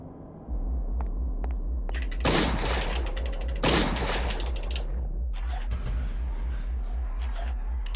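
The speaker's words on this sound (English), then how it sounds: "So you can actually shoot this guardian before it does a spell." Gunfire aimed at a guardian in the video game Eternal Darkness: two loud bursts of shots stand out over a pulsing mechanical game soundtrack, with scattered clicks and clanks around them.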